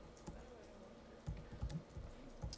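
Keyboard typing out a social media post, sparse keystrokes in short bursts with a few louder clacks, close and fairly quiet over a steady room hum.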